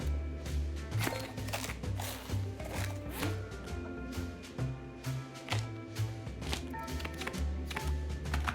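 Rapid knife chopping of cabbage in the cooking game Abra-Cooking-Dabra, a quick series of crisp taps over steady background game music, fairly close and continuous.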